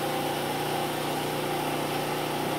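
A food processor blending mint puree: a continuous, steady motor whir with a buzzing, even hum and no breaks or speech.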